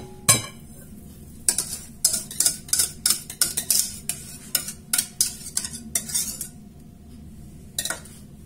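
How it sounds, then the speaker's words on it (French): A spoon stirs a teaspoon of butter into cream in a bowl, making a run of quick metallic clinks and scrapes in an irregular rhythm, close and clear, with a quiet pause partway through. "Et je vais mélanger cette cuillère à café de beurre."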